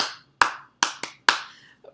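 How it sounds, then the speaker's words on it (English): Hands clap out a short rhythm in a call-and-response game: five sharp, close claps in an uneven pattern, loud and crisp over a quiet room, with a faint soft tap at the end. "just a clapping call and response"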